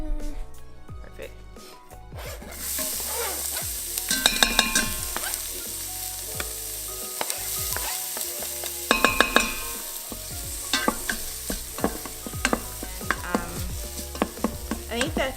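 Onions sizzle steadily in a hot pan for a quick turkey and cranberry meal, with stirring clatter, spoon scrapes and louder bursts of frying throughout, while a person talks over the cooking.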